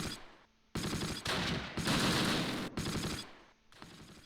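Gunfire from the World War II game Close Combat, set around Barenton in August 1944: dense machine-gun bursts and rifle shots in loud, sustained volleys separated by brief lulls.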